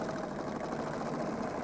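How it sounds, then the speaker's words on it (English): A serger sewing machine stitches together the long edge of three quilt layers, a fast, steady mechanical whirr running continuously and fairly faint. "So I bring those edges together, and let's serge those."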